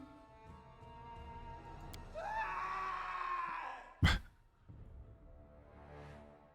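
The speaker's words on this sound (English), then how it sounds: "That was quite the scream." A character's rising, strained scream in Pathfinder: Kingmaker, a sustained wavering cry lasting about two seconds over a low ambient bed, followed by a sharp impact and quieter rumble.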